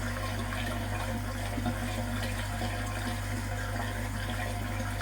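Water pours steadily from the outlet of a koi pond filter, a constant rushing gush with a low, even hum beneath it throughout.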